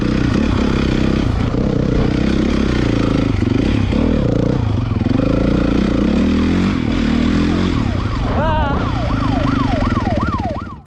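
A motorcycle ridden off road during a police chase, its engine droning loud and rough with clattering over rough ground, then a wailing siren rising and falling over the last few seconds.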